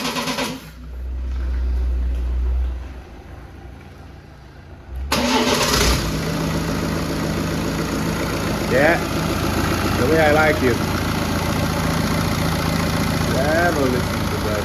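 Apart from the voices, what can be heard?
BMW N47 diesel car engine starting and idling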